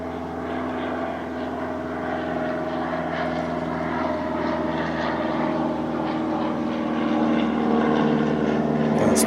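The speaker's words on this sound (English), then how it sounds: "It's one of those light aircraft from the flying school." A light propeller aircraft from a flying school passes overhead about half a mile from an airport, its steady droning engine hum building louder toward the end, heard alone without talk.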